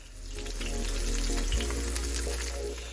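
A salmon fillet sizzles steadily in a hot pan, a dense continuous frying hiss with small crackles that holds at an even, close level throughout, no voices present.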